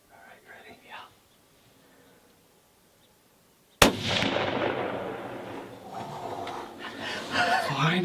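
A rifle shot fired at a deer during a Missouri hunt cracks out loud and sharp after near silence, followed by a rolling echo and then excited voices talking.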